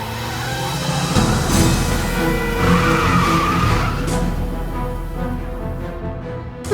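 A sports car in the Broken Sword 3 video game skids past with loud tire squeal over a steady engine roar, sweeping close by and fading toward the end, with no talking.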